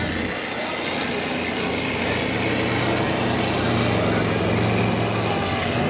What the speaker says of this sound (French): Maintenant, c'est un moteur 302 pouces cubes qu'on a mis dans le Canada Made.